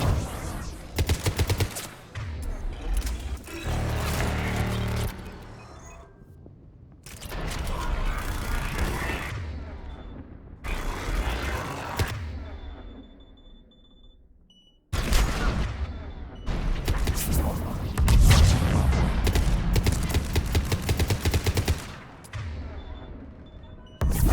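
Gunfire in the video game Mass Effect 3 during a battle on Thessia: rapid bursts of weapon fire and mechanical clatter come in dense, loud volleys, with short quieter gaps in between.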